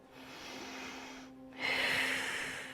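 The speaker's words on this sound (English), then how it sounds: "2 big deep breaths." Deep breathing during an intermediate Pilates spinal twist stretch: a long, soft, airy inhale, a brief pause, then a louder, fuller rushing exhale close to the microphone, with no talking.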